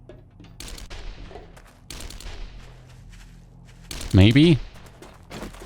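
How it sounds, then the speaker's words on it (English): Bursts of AK rifle gunfire from the zombie survival game 7 Days to Die crack out at a distance in sharp volleys, while a person speaks briefly and a louder whining sound rises near the end. "Once again, I hear someone firing an AK or something."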